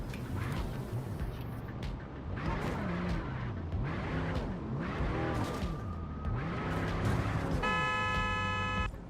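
Car driving in the video game MindsEye, an engine rising and falling in repeated revving sweeps with tire squeal, then a bright electronic tone near the end, continuous and close with no talking.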